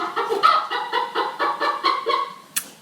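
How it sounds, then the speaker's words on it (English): A chicken squawks and clucks repeatedly in a quick, uneven series of loud bursts, close by, with no talk, ending in one short sharp noise. "There's our chicken again. Every time I do a live stream, blasted chicken comes out and squawks at me."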